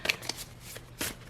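Tarot cards shuffled by hand for a reading, a few short papery flicks and slides close to the microphone, with no talking.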